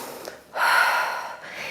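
A single deep, breathy exhalation during a standing ballet strengthening workout follows a brief inhale, close and fairly loud before trailing off.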